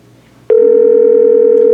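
An ESI 30 office phone plays a short tone after an extension is dialed and the pound key is pressed, a steady, loud, continuous electronic tone that begins abruptly and holds without a break.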